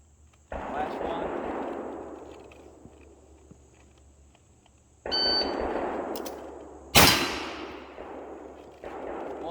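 A Cimarron revolver, Schofield or American model, fires a shot that rings a steel target, a sharp loud crack with a bright metallic ring trailing off, amid broadband range noise and another burst near the end.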